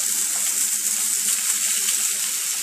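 Sweet potato pieces fry in a pan as a steady, loud hiss of sizzling oil, continuous and close, without any voices.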